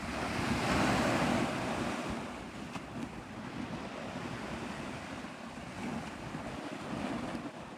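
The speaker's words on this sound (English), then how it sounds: "I'm here to show you the ocean" Stormy surf rolls in steadily at Navarre Beach, Florida, a broad continuous wash of breaking ocean waves with wind buffeting the microphone, loudest in the first seconds and then holding an even roar.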